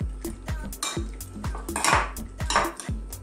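A utensil repeatedly clinks and scrapes against a bowl in a quick rhythmic stir as shrimp is mixed with salt and pepper marinade, close and fairly loud, no speech.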